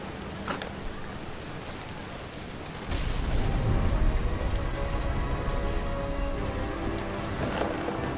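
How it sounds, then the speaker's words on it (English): A thunderstorm with rain in What Remains of Edith Finch: light patter swells abruptly into a heavy downpour with a low rumble of thunder, sustained and close, with no talk. "The thunder sounded much too close and full of angry power."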